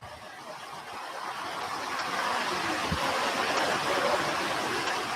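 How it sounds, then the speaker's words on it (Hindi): Heavy rain pouring steadily, a dense broadband hiss that swells slightly and holds constant throughout, with no voices. "पानी पड़ रहा है इतना तेजी"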